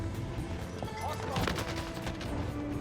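A rapid burst of shotgun fire with fire effects from Call of Duty Warzone crackles in several sharp reports, loud and dense against constant game noise.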